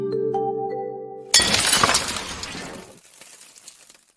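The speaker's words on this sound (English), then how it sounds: "I love it when Wonder Woman smashes that window" Window glass smashes loudly as a cartoon stinger for Wonder Woman, preceded by a short sustained tonal musical note; the crash bursts suddenly, then scattered shards tinkle and decay over a few seconds.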